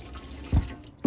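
Water runs from a tap in a Bailey Phoenix caravan, a steady close splashing stream with a couple of louder gushing bursts.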